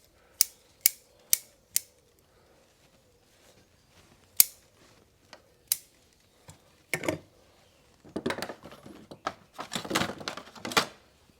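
Bonsai branches are pruned with cutters: a string of sharp, close snips at irregular intervals, followed by a rustling flurry of leaves and twigs being handled.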